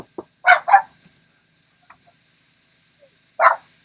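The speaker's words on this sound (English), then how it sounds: "Hey, shut your dog up, please." A dog gives a few short barks nearby, a quick pair of yaps followed after a pause by a single louder bark, with near silence between.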